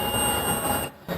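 A multimeter's continuity beep as its probes touch a mobile phone's shorted vibrator pins: a steady high-pitched tone held over hissy background noise, cutting out briefly near the end.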